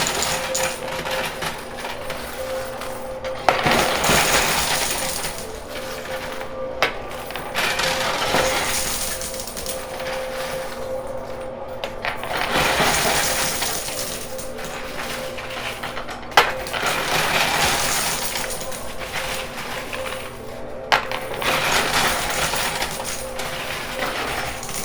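Poker chips clatter and tumble in a high-limit coin pusher machine, sliding and dropping in repeated bursts with sharp clinks, mechanical pushing between cascades, and no talking.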